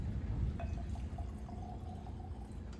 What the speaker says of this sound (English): let me start pouring here as I'm talking